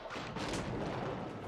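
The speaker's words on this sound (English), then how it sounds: "Now we see the mangonels taking down this stone wall, opening everything up here." Mangonels pound a stone wall in Age of Empires IV, a short faint run of muffled booming impacts and rumbling destruction.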